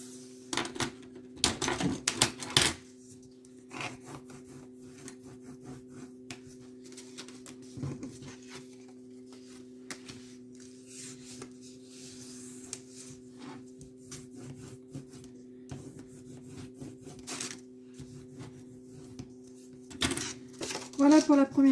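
Paper is folded and creased for a scrapbook basket, with scattered close rubbing, tapping and crinkling amid a steady electrical hum, and a burst of handling near the start and end.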